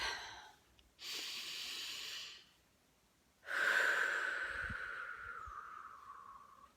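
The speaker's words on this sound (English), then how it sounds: "Okay, deep breath." Two slow deep breaths close by, a long inhale followed after a pause by a longer, louder exhale that gradually tapers off.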